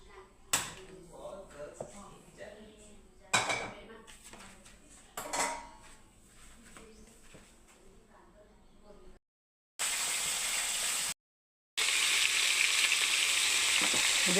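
Vegetables frying in a pan on a gas stove, with faint clinks and scrapes of utensils at first, then a loud, steady hiss of sizzling that cuts in and out.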